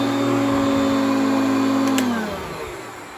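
A Hoover Concept One vacuum cleaner runs with a steady motor whine and hum, then winds down near the end as the tone drops and fades.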